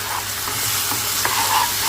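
Tomatoes and chili powder stirred in a pan for a drumstick pulp curry, with a steady soft sizzle and a few scraping strokes of the spoon, close up and without talk.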